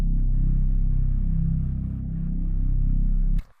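A Reese bass one-shot sample in Logic Pro plays a single low C1 note. It sustains as a thick, steady bass tone for about three and a half seconds and then cuts off abruptly.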